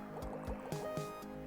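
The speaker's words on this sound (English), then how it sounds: "The flow of water is actually quite responsive." Water flowing and gurgling in a physics puzzle game, small liquid plops and drips repeating quickly over a steady tonal background hum.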